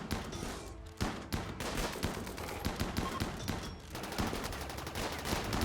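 RimWorld heavy blasters fire in a chaotic battle, producing rapid overlapping bursts of sharp shots, loud and sustained, with denser volleys and brief lulls.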